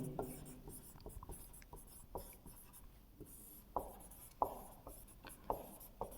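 Chalk or marker strokes on a classroom board during a lecture on the reflection of light, a series of short scratchy taps and scrapes in an uneven rhythm, close and moderately loud, with faint talk in the background.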